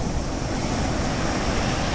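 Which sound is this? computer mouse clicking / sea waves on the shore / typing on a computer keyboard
sea waves on the shore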